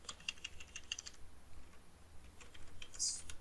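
Quiet clicks of typing on a computer keyboard, a quick run of keystrokes at the start, a pause, then a few more taps near the end, close and faint.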